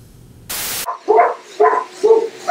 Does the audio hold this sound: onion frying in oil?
no